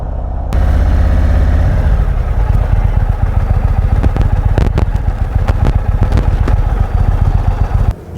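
An Indian motorcycle on a test ride fires up with a loud, close engine roar. It rumbles and clatters steadily with uneven throttle pulses throughout.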